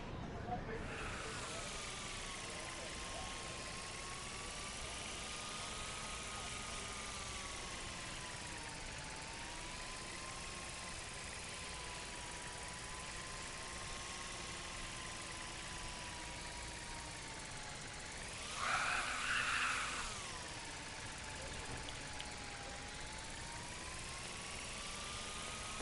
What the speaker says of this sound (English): Here, give the drone a whirl around campus.